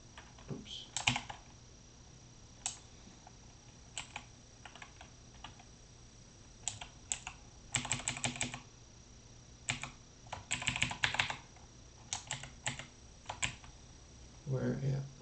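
Keys clatter on a computer keyboard in scattered bursts of quick strokes separated by pauses, close and crisp, with a voice talking briefly near the end.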